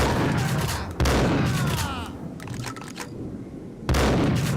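Loud shotgun blasts from Max Payne gameplay: several heavy booming shots, one at the start, one near one second and another near four seconds, with quieter gunfire and echoing rattle in between.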